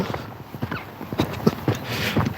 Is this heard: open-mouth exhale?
no